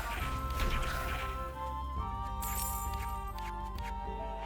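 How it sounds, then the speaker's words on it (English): A sharp crash as an object is smashed in a video game, followed by bright shattering debris sounds over a steady musical background. "Alright, we smashed it."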